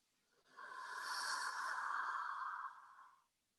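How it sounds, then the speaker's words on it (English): A slow, deep inhale through the nose during a calming breathing exercise, a soft steady airy breath rising and lasting about three seconds, close and quiet with no talking. "We're going to inhale"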